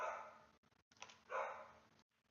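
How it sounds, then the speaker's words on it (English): Dogs barking in the distance, a few muffled barks in short bursts, faint and thin, heard alone without talk. "I had to deal with some dogs"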